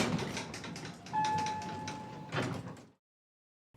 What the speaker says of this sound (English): he pressed the button, and the doors opened immediately